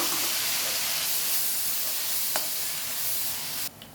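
Fennel seeds fry in hot oil for an egg masala curry, a steady loud sizzle and hiss running right through, with one small click near the end and no talking.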